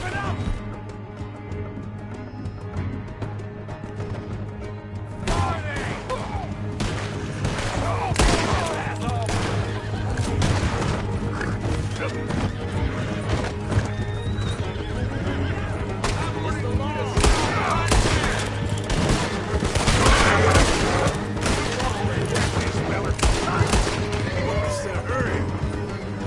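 Red Dead Redemption 2 gunfight with rapid volleys of rifle and pistol shots cracking loudly and repeatedly, horses whinnying amid the shooting, and voices shouting over the battle.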